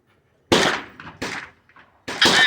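Shots ring out from a chrome-lined machine gun at a 200-yard range, three loud, close, sharp reports, the middle one trailed by a quick echo.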